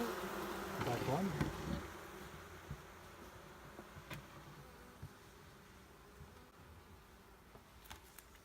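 Honeybees at an open hive mid-inspection, a steady low buzzing drone of beating wings that swells louder in the first two seconds and then settles, with a few faint knocks from the hive top.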